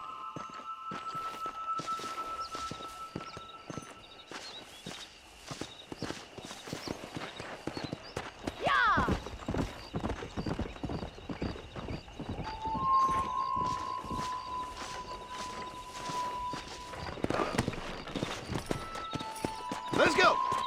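A horse's hooves clip-clop steadily under a rider in the Western video game Red Dead Redemption, a fast even rhythm running throughout, mixed with voices and sustained tonal game sounds.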